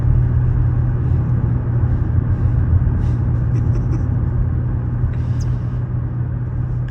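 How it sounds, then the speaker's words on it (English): A car's steady low engine rumble and road noise hold constant from inside the cabin while driving down a country road, with faint music and a few light clicks above it. "as I'm driving down the country road"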